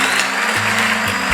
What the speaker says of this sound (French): vous allez juste prendre le mixeur, voilà, vous allez le plonger comme ça